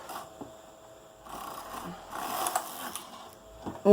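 A knitting machine works a sweater in quick rasping carriage passes that start and stop, with a brief louder clack right at the end.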